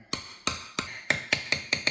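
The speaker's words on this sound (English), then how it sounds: "I'll take my 15mm with my hammer." A little hammer taps a 15mm socket to press a part into the case of a Yamaha Banshee: eight crisp metallic strikes at a quick, even pace, close and alone.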